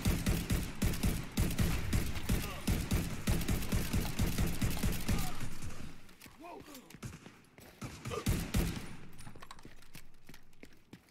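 Rapid bursts of automatic gunfire in The Division 2 rattle loudly for several seconds, then thin out into scattered shots and impacts as the shooting dies down.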